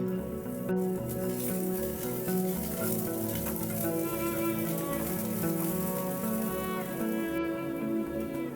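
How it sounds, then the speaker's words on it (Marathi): Garlic, ginger and coriander stems frying in oil in a pan, a steady continuous sizzle that stays loud and even throughout with no talk. "आता यामध्ये थोडस तेल घालून लसूण अद्रक कोथिंबिरीचे देठ"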